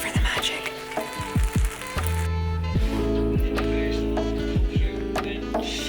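A cheese and onion sandwich fries in a pan, toasted side down on the uncooked side, giving a loud, continuous crackling sizzle with a soccer broadcast faintly in the background and a few knocks against the pan.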